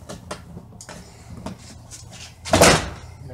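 Plastic hooks on a car door's side view mirror control panel cover unclip as it is pried loose. A few small clicks come first, then one louder, sharper snap near the end, all close up.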